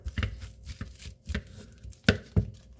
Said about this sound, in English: I'm gonna mash my banana